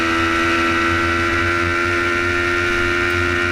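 A motorcycle racing the Isle of Man TT course, its engine holding a loud, steady high-revving drone at close range, overlaid with rushing wind noise throughout.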